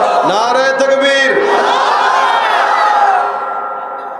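Crowd at an Islamic sermon loudly chanting takbir together, a sustained mass of shouting voices that swells and then fades toward the end.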